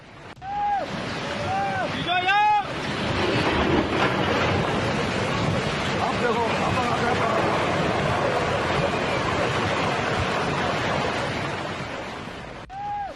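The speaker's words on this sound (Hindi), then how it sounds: "रामनगर को रानीखेत से जोड़ने वाला एक पुल उफनती नदी में बह गया। तस्वीर देखिए, पानी की आप रफ्तार देखिए ना" Swollen, fast-flowing river in flood in Uttarakhand, near a washed-away bridge between Ramnagar and Ranikhet, a constant loud roar of rushing water heard under a voice.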